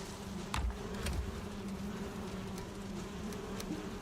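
Bees buzzing in a Viking video game, a continuous droning hum that holds steady throughout, fairly loud and close, with a few faint clicks and thumps over it and no talk.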